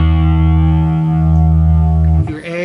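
A single sustained low E note on a distorted electric guitar tuned down to A430, loud and close, ringing steadily for about two seconds before being cut off by a short scrape.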